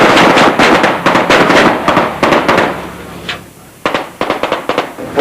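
Rapid barrage of loud pyrotechnic blasts and crackling bangs as a tank fires special effects charges on a television war series set, dense overlapping reports with a brief lull before another burst.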